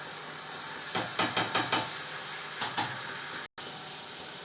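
Tamarind frying in hot oil for an egg and tomato masala curry, a steady sizzling hiss with a quick run of scraping stirs near the start and a few more shortly after, no voices.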